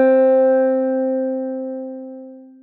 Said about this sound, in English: let's play our 1st finger on the 1st fret B